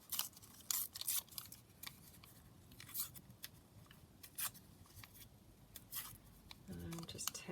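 Printed paper being torn by hand around a cut-out figure, a series of short crisp rips and crinkles in quick bursts, close and fairly quiet, with low room noise underneath.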